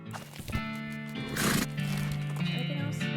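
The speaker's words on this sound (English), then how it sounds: "I'm trying to get on the horse." A horse in the video game West of Loathing whinnies loudly over a steady run of clip-clopping hooves, with a burst of noise midway and game music underneath.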